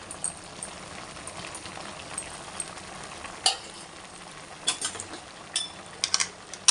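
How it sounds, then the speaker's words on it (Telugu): Onion and chilli sizzling in a pan, a soft continuous crackle with scattered sharp pops and the occasional clink of a utensil stirring, fairly quiet and close with no talk. "ఇప్పుడు ఇందులోకి ఇందాక కట్ చేసుకున్న ఆనియన్, మిర్చి ఇందులో వేసేసుకుంటున్నా"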